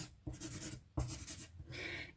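A pen scratches across a paper zine page, marking out a drawing in two or three brisk strokes with short pauses between them, close and fairly quiet.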